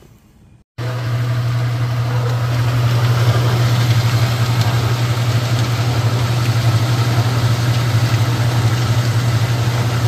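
A Speed Queen AWN412SP111TW01 washing machine drum spins during a repair test, producing a loud, steady motor hum that starts abruptly after a brief quiet moment and holds evenly throughout, with no talking.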